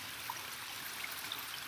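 Water from a garden pond waterfall, netted over, trickles and splashes in a faint, steady outdoor stream with no voices.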